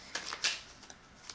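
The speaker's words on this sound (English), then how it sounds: "so I'm just going to shuffle again" Tarot cards being shuffled by hand, a few soft riffling bursts and light flicks close by, with no voices.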